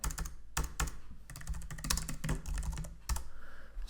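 Rapid keystrokes on a computer keyboard as a search is typed, crisp clicking in quick irregular bursts with brief pauses, close and alone.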